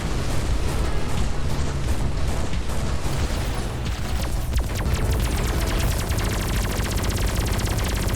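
Missiles launch from a ship in the space combat game Everspace 2, a loud, dense barrage of rapid bursts and blasts that continues without pause, with crackling impacts building toward the end.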